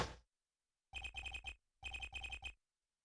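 A cell phone ringtone in the Apollo Justice: Ace Attorney video game sounds in two clear bursts, each made of four quick electronic trilling chirps separated by a short pause, with no talking.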